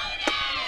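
Vocal Gulf Coast softball dugout cheering, a crowd-like burst of voices with a brief sharp shout rising over steady background noise during a game.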